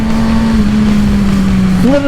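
Suzuki Gixxer 750 motorcycle engine ridden in first gear, a steady loud drone holding one pitch, then rising sharply near the end as the throttle opens.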